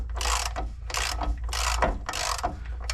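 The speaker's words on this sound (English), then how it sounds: "I can see it pressing in, so that means the bearing is being pushed in." A press tool ratchets in regular strokes while driving a bearing into its seat, four or five harsh clicking bursts close up, with no talk.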